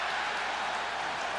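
A packed stadium crowd roars steadily at a 2004 NFL game between the Philadelphia Eagles and Dallas Cowboys, a dense, sustained wall of cheering heard from within the stands, with no voice standing out.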